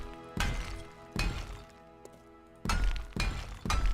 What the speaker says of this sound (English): Let's try to hammer some of this together so it looks just a little bit better for you guys.